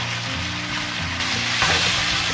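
Lean pork stir-fries in a wok with dried fermented black beans and aromatics, hissing loudly and steadily with a brighter burst of sizzle partway through as the ingredients are tossed.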